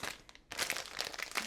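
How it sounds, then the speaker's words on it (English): Crinkling of a plastic bag that holds a waterproof camouflage lens cover for a Sony FE 200-600mm lens, with brisk close crackles, one brief pause, then continuous handling noise. "oh, this is a bag to put it all in"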